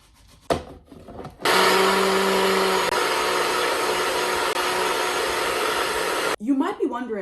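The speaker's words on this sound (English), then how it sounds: "why am I blending oats, an entire container's worth, on the floor of my guest bedroom?" An entire container's worth of oats being blended on a bedroom floor, a loud, steady whirring roar that runs for several seconds and stops abruptly, with brief clatter before and after.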